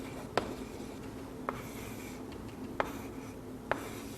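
Marker or chalk writing on a board during a biology lesson, four brief faint strokes spaced about a second apart over steady room noise, with no talking.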